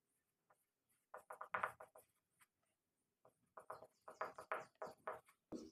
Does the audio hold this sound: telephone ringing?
no